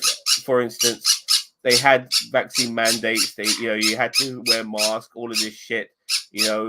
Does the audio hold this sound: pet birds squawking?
yes